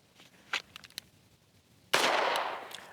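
A single pistol shot cracks loudly at a shooting range during draw-stroke practice, followed by a decaying roar, after a few light clicks and handling noises beforehand.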